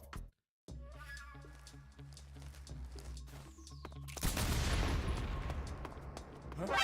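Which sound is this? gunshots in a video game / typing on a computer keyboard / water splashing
gunshots in a video game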